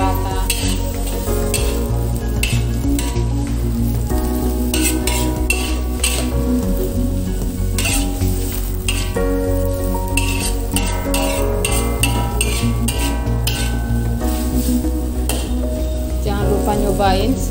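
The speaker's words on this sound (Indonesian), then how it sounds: "Kemudian irisan tomat, aduk sampai merata." Napa cabbage and sliced tomato being stir-fried give a loud, continuous sizzle throughout, with repeated spatula scrapes and metallic pan clatter up close.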